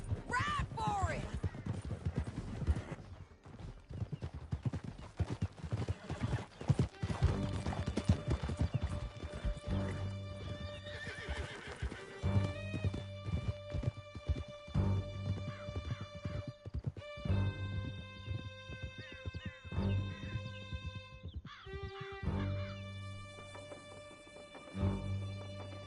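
Hooves clip-clop as horses gallop during a ride in the Red Dead Redemption 2 video game, with whinnies, shouted dialogue and game music layered over the rhythmic hoofbeats.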